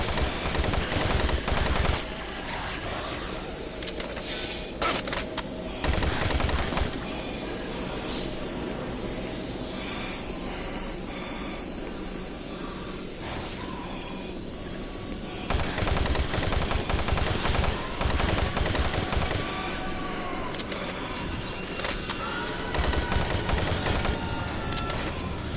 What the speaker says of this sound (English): I think I gotta use the machine gun throughout this whole part.